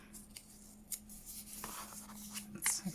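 Paper is ripped by hand while making a junk journal embellishment, giving a few short, faint tearing rasps spread across a quiet background, ending in a slightly louder rip.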